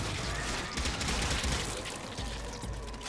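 Rapid gunfire from a weapon in the PS4 game Warframe, a dense, steady burst of shots that runs for about three seconds with no letup.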